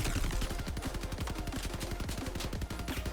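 Leviathan mech's weapons firing in a mech combat video game, a fast, evenly spaced stream of punchy shots that rattles on without pause at moderate loudness.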